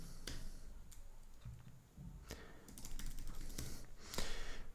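Irregular keystrokes tap on a computer keyboard, some clicks sharper and louder than others. The typing is fairly quiet and close, with brief gaps between bursts.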